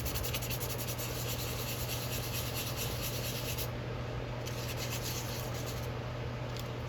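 Hatchet metal being sanded by hand with 150 grit sandpaper, a steady continuous rasping rub with no breaks, close and fairly loud.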